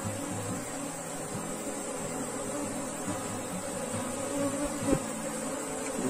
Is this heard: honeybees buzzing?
yes